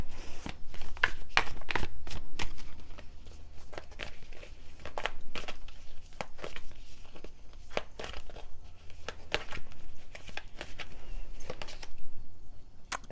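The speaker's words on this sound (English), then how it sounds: "I'm going to pull one more card from the Moonology deck" A Moonology oracle card deck shuffled by hand in close, steady riffling bursts with crisp card slaps and light rustling throughout, no talk.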